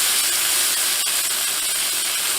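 Steak edges sear in a hot pan with a loud, steady sizzle and a sharp pop partway through.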